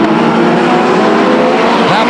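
Stock race cars power out of turn 4 at Stockton 99 Speedway with a loud, continuous engine roar and a rising whine at the close, a voice talking over the noise.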